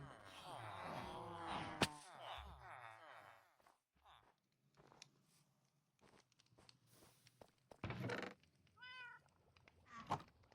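A cat meows in modded Minecraft, a short high, wavering call near the end, with footstep-like clicks and taps scattered around it and a person talking and singing earlier.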